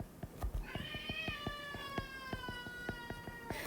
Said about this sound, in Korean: 옆에 있는 고양이가 굉장히 지금 저를 괴롭히고 있습니다